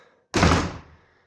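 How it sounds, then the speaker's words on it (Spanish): A door is opened with a single heavy thunk as it swings or releases, a loud broadband knock that decays over about half a second into quiet. "abrimos la puerta."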